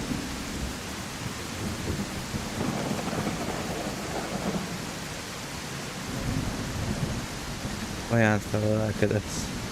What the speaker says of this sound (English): It's too early for a storm, isn't it?